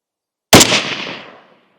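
One sharp, loud 7.62x39 rifle shot goes off after a moment of silence, fired through a barrel on a 1953 SKS during an outdoor velocity test, followed by a decaying echo.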